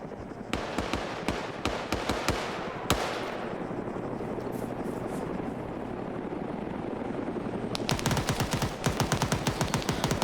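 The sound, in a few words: gunfire in Arma 3 video game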